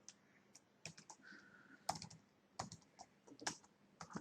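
Keys clack on a computer keyboard in quick, uneven bursts as a channel name is entered, close and quiet with a few sharper strikes standing out, no voices.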